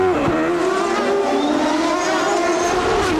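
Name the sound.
CART race cars on track, onboard Rahal's car, Vancouver 1993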